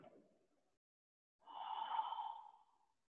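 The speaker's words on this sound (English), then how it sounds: "Exhale. Inhale. Exhale." Deep breathing during a qigong session: a soft breath fades out at the start, then after a pause a long, airy exhale swells and tapers over about a second, close and quiet, with no talking.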